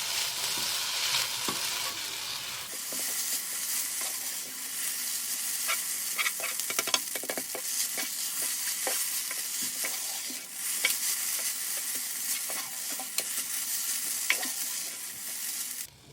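Chicken fried noodles being stirred in a multicooker, with steady scraping and clattering of a utensil over a continuous sizzle of frying, close and fairly loud throughout with no voices.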